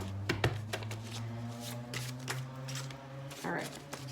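Tarot cards are shuffled with quick, close riffling flicks and taps in an irregular rhythm, while someone talks over them throughout.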